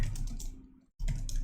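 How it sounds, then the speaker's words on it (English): Keys clatter on a computer keyboard in two close bursts of quick typing, separated by a brief silent pause. "I'm actually typing just like regular"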